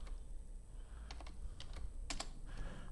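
A command being typed on a computer keyboard, several quick quiet key taps in small clusters with short pauses between them, close and isolated against a faint background hum.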